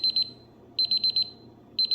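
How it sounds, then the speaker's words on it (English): A 15-minute timer alarm beeps in quick bursts of four to five shrill tones, pausing between groups and repeating, loud and alone over a quiet room hum. "And that's the timer going off."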